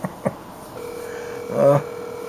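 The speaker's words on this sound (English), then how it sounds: "Let me call her office phone right now." Office phone being dialed after hours, a few short key presses followed by a steady tone and a brief louder burst, close and fairly quiet with no talking.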